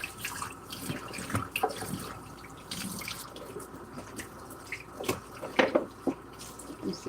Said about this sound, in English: I'm just trying to wash this sink